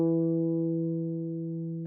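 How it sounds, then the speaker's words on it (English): A single guitar note, E at the second fret of the fourth string, sounds alone, clear and sustained, fading gently for almost two seconds before a brief touch at the end. "2nd finger, 2nd fret, 4th string, E."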